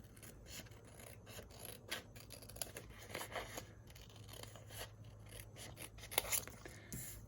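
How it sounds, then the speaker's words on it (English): Scissors trim the numbered edges off plastic diamond-painting drill strips, producing quiet close snipping and rustling cuts in an irregular series, faint and without talk. "So I'm gonna trim that off of each strip."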